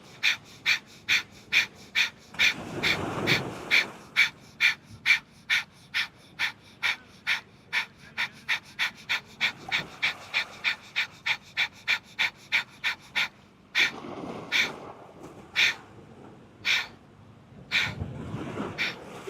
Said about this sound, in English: If that breath ever gets to be too much, come into long, deep breathing.